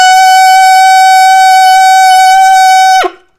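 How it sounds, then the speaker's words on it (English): An alto saxophone sounds a high D sharp / E flat as one loud, steady sustained tone with a rich series of overtones, held for about three seconds and then cut off cleanly, no talk. "So the high E flat, the high D sharp sounds like this."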